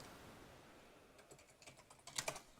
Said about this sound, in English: we were both typing